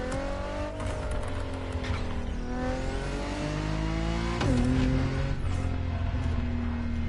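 A Porsche 911 GT3 Cup race car at speed on a racetrack, its engine note climbing and falling through gear changes with a sharp surge midway, loud and continuous with no talking.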